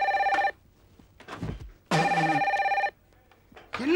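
An old-style telephone bell rings in two loud, rapid trilling bursts separated by a short pause, with faint rustling between them and a third ring starting at the end; no one speaks.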